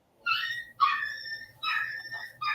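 Puppies yip, whine and whimper in short, shrill bursts, four separate cries a fraction of a second apart, close by and loud, with no talking over them.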